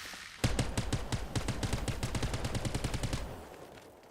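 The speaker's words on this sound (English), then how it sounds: "Shots up and to our left somewhere." Rapid bursts of automatic gunfire crack out in a steady rhythm for about three seconds in a Rocket League RLCS-style multiplayer video game, loud and close, then trailing off into quieter game noise.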